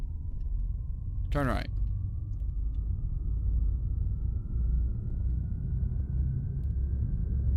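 A video game car engine rumbles low and steady throughout, a continuous deep drone, with a brief synthesized voice prompt cutting in near the start.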